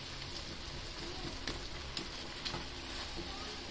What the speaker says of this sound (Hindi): लेकिन थोड़ा पानी है इसलिए बुलबुलें बन रही हैं।